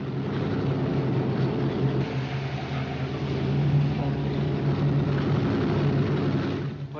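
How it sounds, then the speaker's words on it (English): An airplane engine drones steadily and loudly as the plane departs, a continuous low propeller rumble that swells slightly midway and eases near the end, with no speech. "As soon as the plane goes, Louis."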